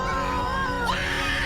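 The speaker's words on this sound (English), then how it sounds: "Weiju screams here" A woman screams in a film scene where a trapped couple hangs on to a tower in deadly fog. Her high, strained cry rises sharply partway through and then holds shrill over a dense background of score and effects.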